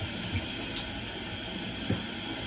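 Hot tap water runs steadily over a makeup brush being rinsed in a sink, a continuous close hiss of flowing water with faint knocks as the brush is swirled.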